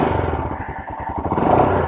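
A used Royal Enfield Himalayan motorcycle with an aftermarket exhaust pipe runs close by, its engine producing a loud, steady, throbbing thump with no speech over it.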